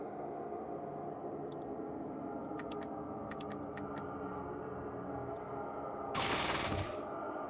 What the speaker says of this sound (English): Not the best aim on that burst fire, I guess.